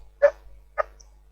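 Two separate barks from a household dog somewhere in the background, each short and distinct, about half a second apart, with quiet in between and no talking.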